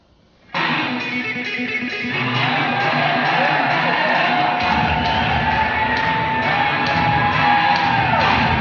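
An audience at a 1992 bodybuilding show erupts into loud, sustained screaming, whooping and cheering that starts abruptly after a brief quiet moment and keeps building in a dense crowd roar.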